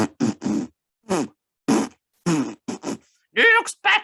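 Mouth-made fart imitation, a series of short buzzy blasts, several brief bursts spread across a few seconds with longer, louder raspy ones at the end, close and in a room with people around.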